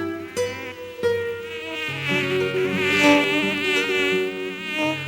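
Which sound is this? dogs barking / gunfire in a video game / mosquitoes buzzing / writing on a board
mosquitoes buzzing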